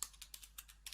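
Keys tapped on a computer keyboard while text is entered in the Nano editor on Kali Linux, a quick uneven run of about a dozen light clicks, close and fairly quiet, with no voices.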